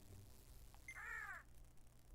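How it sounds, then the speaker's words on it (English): A single crow caw in the Sakura Taisen 2 video game, one harsh drawn-out call over a quiet low hum, with no talking. "of course it's crows"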